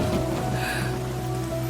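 Rain falling steadily, a soft continuous hiss of drops heard faintly behind a low background hum, with no voices.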